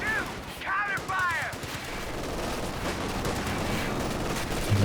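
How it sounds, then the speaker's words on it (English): Dense gunfire from M1919 machine guns in Company of Heroes 2, a steady crackling rattle of rapid bursts throughout, with a few brief whistling tones near the start and battle noise layered on top. "1919 rifles performed pretty well here."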